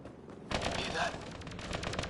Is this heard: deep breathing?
no